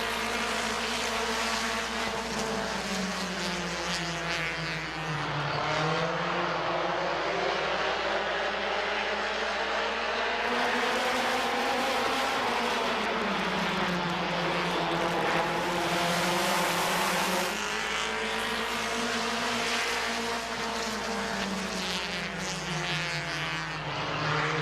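Race cars roar off at the green flag at Midvale Speedway's 2022 Fall Classic, with a loud, continuous pack of engines rising and falling in pitch as they accelerate past.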